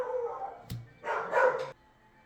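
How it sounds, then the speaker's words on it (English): A dog barks in the background, one sharp bark followed by a short burst of muffled barking a moment later, fairly faint and distant against a quiet room. "Apollo, the dog spirit, is with you too, barking in the background"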